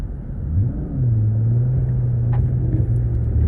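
A car engine in Cyberpunk 2077 revs up and settles into a loud, steady droning rumble while driving, its pitch rising then holding, close and continuous with no talking.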